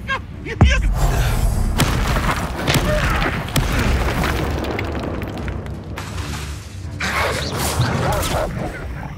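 Incendio fire spell blasts in Hogwarts Legacy, with loud booming bursts and crackling magical effects amid combat noise, a voice calling out spell names over the action.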